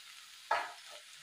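Drumstick flowers are tipped into a hot pan of oil, giving a single short burst of sizzling that fades quickly, faint and alone.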